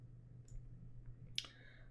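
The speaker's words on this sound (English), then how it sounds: "click on the mouth, and shift click on the nose, and then press delete on the keyboard" Two soft, separate clicks from a computer mouse and keyboard, faint and isolated against a quiet low hum.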